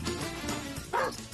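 A dog named Bandit barks and yips during a tense indoor gathering, a couple of sharp close calls over a busy room, with voices around it.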